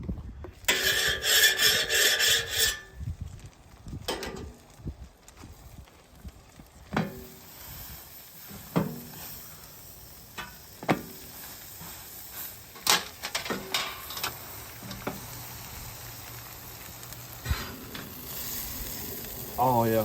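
Baguette toasting on a flat-top griddle in garlic butter at a Santa Maria live-fire cook, a steady close sizzle and fry with scraping and rubbing sounds, loud bursts early and scattered sharp clatters, with a voice talking briefly.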